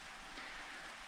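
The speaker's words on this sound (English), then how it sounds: "It's just a very light drizzle" Very light drizzle of rain falling outdoors at an Australian sapphire mining camp, a soft, steady, even hiss with no breaks.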